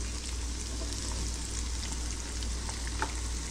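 Fish pieces frying in hot oil, a steady dense sizzle and crackle with occasional pops, close and continuous throughout.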